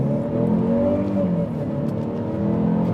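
A 2021 Mercedes-Benz GLE 350 mid-size SUV accelerates hard at full throttle, its engine a steady, loud droning rise heard from inside the cabin, with no talking.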